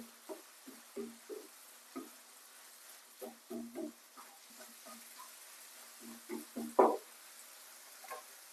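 Broccoli and chicken breast are stirred in a frying pan with a spatula, giving soft, irregular scrapes and taps over a faint sizzle, close and fairly quiet.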